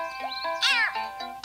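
A cartoonish cat meow plays as the death sound effect in the iPhone game Bounce On: one short, bright, rising-then-falling mew, clear and close.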